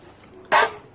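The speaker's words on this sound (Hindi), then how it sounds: "ये देखिए इस तरह से हम छान लेते हैं पानी डाल करके अच्छे से" Water is poured over mustard seeds through a flour sieve, giving one short, close splash and gush of liquid after a quiet moment.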